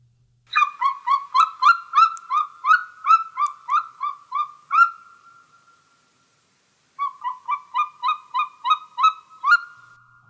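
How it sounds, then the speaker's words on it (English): A golden eagle calls in two bouts of rapid, evenly spaced yelping notes, about a dozen in the first and eight in the second, clear and fairly loud with a silent gap between. "That is a golden eagle."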